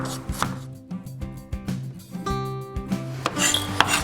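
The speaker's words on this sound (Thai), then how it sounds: "เวลาเพื่อน ๆหั่นตะไคร้นะครับ" Knife chopping lemongrass thinly into fine shreds on a cutting board, a steady run of close, crisp knife strikes with some clatter of kitchen utensils, no talking.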